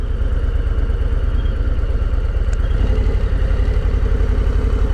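A Harley-Davidson Low Rider S motorcycle rides along slowly, its engine giving a steady, loud, throbbing low rumble that continues unbroken throughout.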